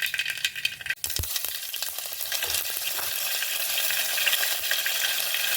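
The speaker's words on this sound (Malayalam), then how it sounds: "കടുകുകളൊക്കെ ആഹ്ലാദാരവങ്ങളോടെ പൊട്ടിത്തകരുമ്പോൾ അതിലേക്ക് അല്പം എള്ള് ചേർത്ത് കൊടുക്കുക" Mustard seeds, white sesame and curry leaves sizzle and crackle in hot oil, a steady dense frying hiss with a sharp pop near the start, loud and continuous throughout.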